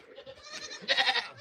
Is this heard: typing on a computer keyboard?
no